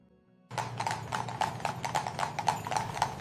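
Horse hooves clip-clopping while pulling a carriage on Mackinac Island, Michigan, a steady brisk rhythm of sharp hoof strikes starting abruptly and continuing close and clear.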